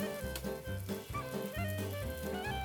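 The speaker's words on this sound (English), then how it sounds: "Now we're just going to fry up our marinated tofu." Marinated tofu fries in a hot pan with a steady, crackling sizzle that runs throughout, fairly close, over other tonal kitchen sounds.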